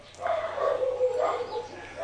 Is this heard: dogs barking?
yes